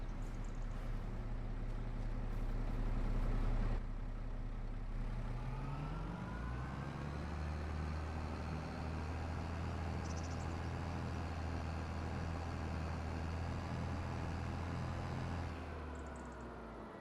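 A tractor engine drones steadily while working a field in a farming video game, a continuous low rumble whose pitch shifts once partway through before holding even to the end.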